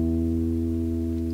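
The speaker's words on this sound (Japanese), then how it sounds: "これは D 弦2フレットの E の音になります。" A bass guitar sounds a single E, fretted at the 2nd fret of the D string, ringing loud and steady with no attack gaps and no voices for the whole stretch.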